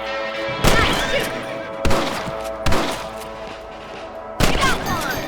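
Rifle shots ring out in Red Dead Redemption, four sharp reports spaced unevenly over a few seconds, each with a ringing tail over steady game ambience.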